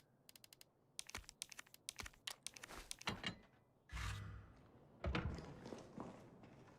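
Typewriter keys clack in Resident Evil 3 Remake, a quick string of crisp strikes followed by heavier irregular thumps and clunks, fairly faint.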